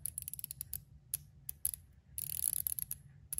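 A Leatherman Ratchet Driver, one tooth chipped, clicks in quick, irregular bursts of small sharp ratcheting ticks, close and fairly quiet, with a denser flurry near the end.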